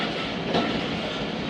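The Jaffar Express passenger train runs on the Peshawar to Lahore line, heard from on board as a loud, steady rumble and roar of wheels on rails.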